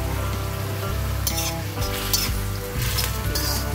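Vegetables are sautéed in a pan, giving a loud, steady close-up sizzle broken by a few stirring scrapes and light metallic clinks. No voice is heard.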